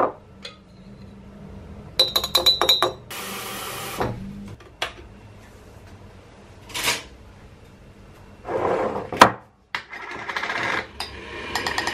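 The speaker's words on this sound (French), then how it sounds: "Je mélange juste avec un petit peu d'huile." Used coffee grounds stirred with a little oil in a container give irregular bursts of clinking and scraping, loud and close, separated by short pauses.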